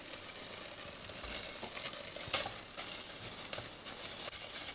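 Beef pieces sizzling as they fry in rendered beef fat in a pan, a continuous crackling hiss with brief louder spits and the occasional stir, close and steady with nobody talking.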